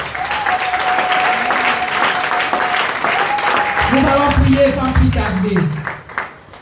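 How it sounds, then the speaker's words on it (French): Church congregation applauding during a French-language prayer service, a steady wash of clapping that stays loud throughout, with voices and singing mixed in and a fade at the end. "Acclame la parole du Seigneur."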